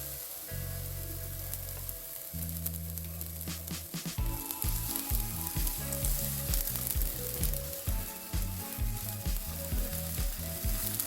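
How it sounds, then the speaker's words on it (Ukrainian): Oil sizzles steadily in a small oiled pan as cheese flatbreads made with kefir fry, with a continuous crackling hiss and occasional scraping or tapping, no voices. "Можемо смажити палянички, сковорідку змащую олією."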